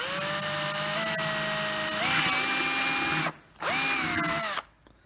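A power drill bores a hole through plastic for a homemade mouse trap, a loud, close whine that rises in pitch, cuts out briefly, then spins up again before stopping.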